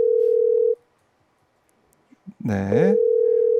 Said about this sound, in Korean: 노영희 변호사 신호는 가고 있습니다